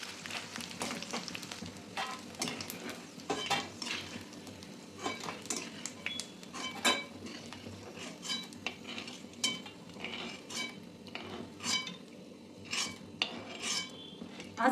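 Edible gum (dink) frying in plenty of ghee, with a soft steady sizzle under frequent clinks and scrapes of a spoon stirring in the pan.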